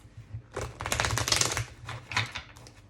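A deck of cards is shuffled up close, giving a dense papery riffle and flutter in two bursts lasting most of the time, with no talk.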